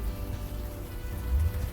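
Steady, soft rain hisses continuously on a nighttime street in the video game Unavowed, an even wash of droplets with no talk over it.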